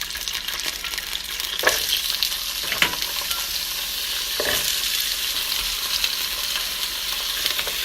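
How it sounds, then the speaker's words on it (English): Wet slivered potatoes fry in hot oil with mustard seeds, giving a loud, steady sizzle with a few sharper crackles and stirring scrapes, and no talking. "I'm going to add these slivered potatoes. Now they're wet"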